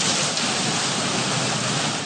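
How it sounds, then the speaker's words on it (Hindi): Torrential rain pours steadily in a city on a day of heavy downpour: a loud, dense, continuous hiss of water hitting surfaces, with no voices. "सुबह सवेरे शुरू होने वाली मूसलाधार बारिश शहर के मुख्तलिफ इलाकों में दिन भर वक्फे से"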